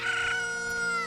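Chickens in Kakariko Village in the video game Ocarina of Time give a sustained, bright, tonal cluck-crow lasting about a second, loud and steady over the game's background sound.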